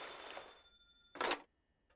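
In the video game Paranormasight, a fax machine's telephone ring: one brief electronic ring burst following a fading tone, clear and moderately loud with no talk.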